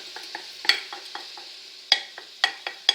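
Mushrooms and julienned vegetables in oil in a pan, with a steady soft sizzle broken by several sharp scraping clacks of stirring, close and without talk.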